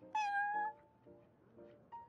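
In Genshin Impact, a cat gives a clear, close meow that slides downward, followed by a couple of softer, shorter mews and a small chirp at the end.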